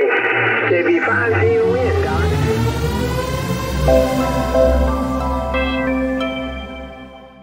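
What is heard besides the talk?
ham radio receiver static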